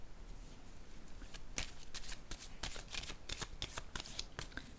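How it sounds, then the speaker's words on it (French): Tarot cards being shuffled: a continuous crisp riffle of rapid papery snaps, close and moderately quiet, with no voices. "Je vais déposer une carte sur la fertilité à l'envers."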